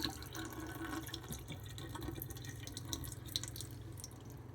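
Liquid from opened cans of mushrooms and bamboo shoots draining out, a faint steady trickle and dribble with light splashes, continuous and quiet.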